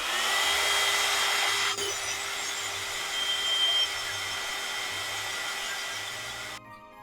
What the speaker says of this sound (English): I'm just going to get the heat gun and give these a little bit of a blast